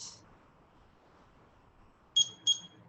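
A kitchen timer gives two quick, fairly faint beeps near the end after near silence, with a brief similar tone at the very start.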